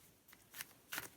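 Tarot cards are shuffled by hand in a quiet room, giving a few short, faint riffling bursts spaced apart, with no talking.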